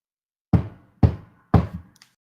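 Three answering knocks on a door during a tabletop fantasy game, evenly spaced about half a second apart, each a firm close thud with a short decay, followed by a faint tap.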